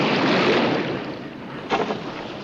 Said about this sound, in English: The sound of the waves has dropped.